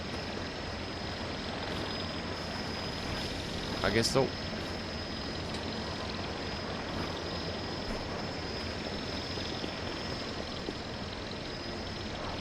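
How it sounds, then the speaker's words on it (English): An in-game drone in Voices of the Void whirs back overhead as a steady mechanical drone with a brief louder swell midway, under a person talking. "Why did the drone come back?"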